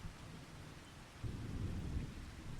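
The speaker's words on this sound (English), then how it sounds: "And here is the rain." Steady rain hiss with a deep rumble of thunder swelling midway, Farming Simulator 25 game ambience without any voices.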